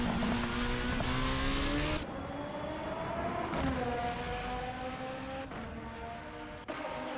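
A race car in a racing video game during a Formula Hololive Japan event at the Tokachi Superprix, its engine droning loudly and steadily with rising and shifting pitch through gear changes, alone without talk.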